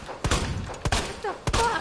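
Three loud, close shotgun blasts from the riot gun in Resident Evil 2, Claire's story on Hardcore mode, evenly spaced about half a second apart, each a sharp boom with a short ringing tail.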